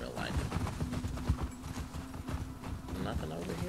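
Horse hooves clip-clop steadily at a walk through The Last of Us Part 2, a continuous patter of soft thuds under someone talking.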